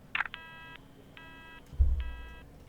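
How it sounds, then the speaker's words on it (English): Phone call hang-up tone in the video game The Operator: a short click, then three evenly spaced electronic beeps, faint and clean, with a low thump partway through. "these guys just abruptly hang up the phone"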